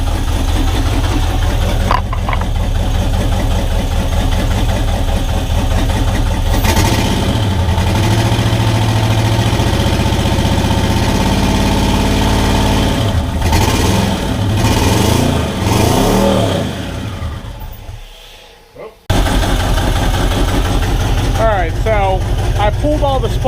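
A turbocharged V8 swapped into a Datsun 720 pickup runs steadily with a loud, rough idle and heavy vibration, then drops briefly toward silence before catching and running again, with people talking over it.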